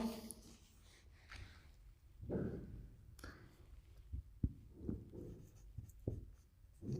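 An answer is handwritten with a pen on paper, giving a series of short irregular scratching strokes and taps, fairly close and alone without talk.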